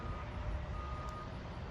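A truck drives at a coal ash fill at the Marshall Steam Station in Mooresville, North Carolina, a steady distant engine rumble under broad wind-like noise with no clear beeps.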